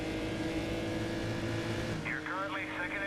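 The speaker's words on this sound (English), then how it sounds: "Here comes the Le Mans car that lost its grip" A Le Mans race car in a racing video game, a steady engine drone with a tonal whine that shifts as it passes, with a voice talking over it near the end.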